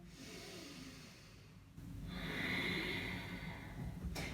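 Deep breathing during a yoga side stretch, with a quiet, airy inhale flowing into a stronger, fuller breath close to the mic and a brief rustle at the end.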